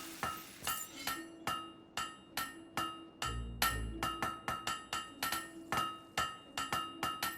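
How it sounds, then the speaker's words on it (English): A hammer strikes a blade at a forge in the video game Fable 3, ringing out in a steady series of sharp metallic clanks with a brief low rumble partway through. "Great hammer work there."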